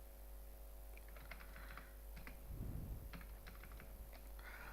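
Keys clicking on a computer keyboard while entering unit costs into an Excel spreadsheet, scattered quick taps in short clusters over a steady low electrical hum, with one duller thump in the middle.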